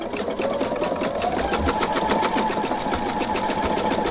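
A sewing machine doing bobbin work runs continuously at high speed, a close, loud, even mechanical whir with rapid stitching clatter and a slight rise in motor pitch, no voices.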